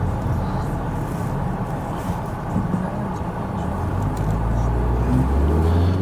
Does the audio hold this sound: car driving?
yes